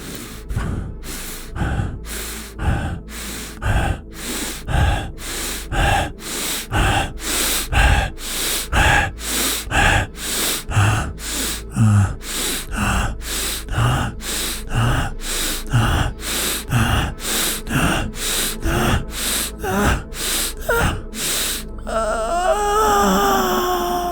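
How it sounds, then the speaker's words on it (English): Slow, deep breathing during a guided sexual-healing meditation, each audible inhale and exhale repeating in a steady rhythm of about one breath per second, close and loud, with no talking. "breathing deeply directly into your sexual organs"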